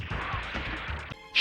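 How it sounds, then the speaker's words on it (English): Glass is shot and shatters in the light-gun game Lethal Enforcers: a rapid series of sharp crashing impacts with a brighter burst at the end, short and punchy with no talking. "Shoot the glass."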